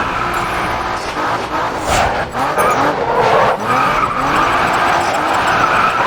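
A race car from Grid Autosport spins out with loud, sustained tire skidding and squealing over a roaring engine, close and continuous, with no talking.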